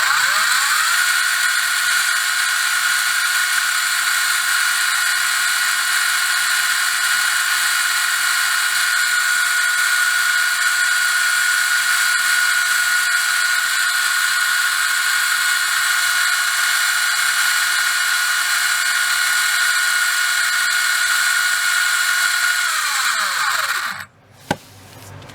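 REDS Racing VX4 RC motor running flat out on a timed RPM test bench, a loud, steady high-pitched whine held for over twenty seconds before it cuts off and spins down abruptly.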